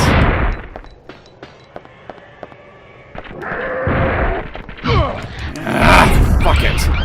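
Heavy anti-tank rifle shots blast at raptors in Dino Crisis 2, several loud booming reports with mechanical clanks and creature noises between them, no talk over the firing.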